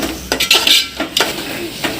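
Yogurt stirred into mutton biryani masala in a metal pot, with spoon scrapes and clinks at an uneven rhythm, a few louder strokes standing out over a soft background sizzle, close and clear with no talking.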